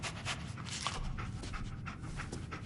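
Dogmeat, the dog in the video game Fallout 4, pants steadily in short rapid huffs, close up and continuous throughout, with no voices.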